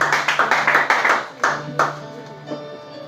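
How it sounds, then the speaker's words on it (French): A church congregation claps loudly in a quick, rhythmic burst of hands, sharp and close, then the clapping thins out into a few scattered claps and murmurs as a voice speaks over it. "On acclame très fort pour le Seigneur."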